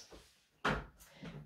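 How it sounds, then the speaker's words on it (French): A house door is opened to let a small dog named Marley in from behind it: a faint handle click comes first, then a sharp wooden knock and rattle, then a softer bump as the door swings, all close by and without talk. "je vais ouvrir la porte à Marley, parce qu'il est derrière la porte"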